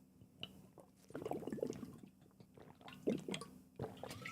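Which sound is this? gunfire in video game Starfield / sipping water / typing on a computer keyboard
sipping water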